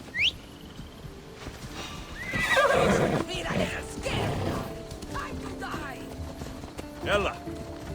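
A horse whinnies and its hooves clip-clop on ground during riding in Assassin's Creed Odyssey, with game sounds and mechanical rattles mixed in and a voice speaking over the scene.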